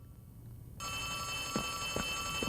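Electronic phone ringing inside the video game Poppy Playtime, a steady high-pitched tone that starts abruptly partway through, with faint soft thumps over a low background hum.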